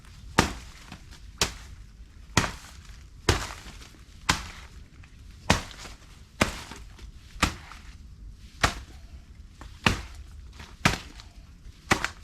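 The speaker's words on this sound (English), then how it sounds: "So, I mean, if you can chop them up even in half, it helps a lot." A machete or blade chops through banana stalks in a winter garden, about a dozen heavy, close thunks landing at a steady rate of roughly one per second, with no talking.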